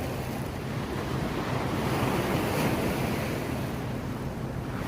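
Rough sea water churns by white rocks, a dense, continuous roar of surf mixed with wind buffeting the microphone, loud and steady with no voices.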